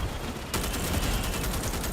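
Rapid automatic gunfire bursts in the sci-fi shooter Starship Troopers: Extermination, a dense continuous volley that kicks in abruptly and stays loud and near.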